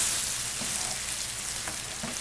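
Pinot Grigio sizzles steadily in a hot pan while reducing to build a pasta sauce with pancetta, a close, continuous hissing fry with faint stirring scrapes.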